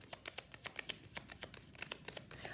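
Tarot cards being shuffled for a reading, with a rapid, even run of close, crisp card riffles and flicks.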